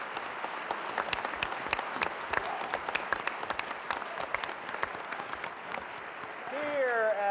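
Studio audience applause at a Computer Bowl quiz show, a dense, steady clatter of many hands clapping close by, holding for several seconds before a voice begins to rise at the end.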